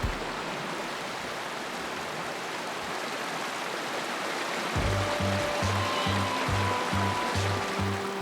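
A creek flowing beneath a bridge on the Colorado Trail, a steady, loud rush of running water, joined partway through by a rhythmic low tonal pattern layered over the flow.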